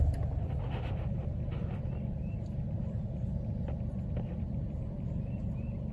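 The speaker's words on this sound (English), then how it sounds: "There's a car coming. We'll wait until he goes by." A car passes on a rural road as a steady low rumble, moderately distant and fairly faint, with no voices and no sharp peak in loudness.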